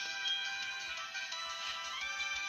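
A phone ringtone plays steadily and fairly loud for a couple of seconds, a bright electronic melody with no voices over it.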